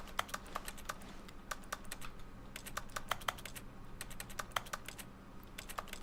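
Rapid keypad-style clicking from button presses in The Stanley Parable video game, a quiet stream of crisp, irregular taps like typing on a keyboard, with no talk over it.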